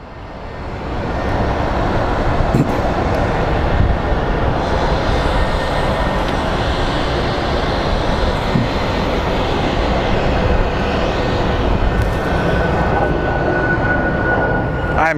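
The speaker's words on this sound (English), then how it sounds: "So we have the UPS 767 that's going to, I believe, going to SDF, aka Louisville." A UPS Boeing 767 cargo jet at Phoenix Sky Harbor Airport gives a loud, sustained engine roar that holds steady for many seconds, with a faint whine on top and no talking.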